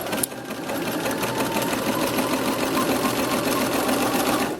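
A sewing machine runs steadily, stitching fabric around the loop of a skirt with dental floss fed under the presser foot, the motor's whirring hum constant and close throughout.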